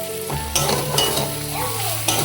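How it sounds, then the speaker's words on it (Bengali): Whole cumin, cardamom, cinnamon and bay leaf sizzling in hot oil in a Kolkata home kitchen, a steady close crackling fry with a few stirring scrapes. "জিরে ফোড়ন দিয়েছি, এলাচ, দারচিনি আর তেজপাতা, এই ফোড়ন দিয়েছি"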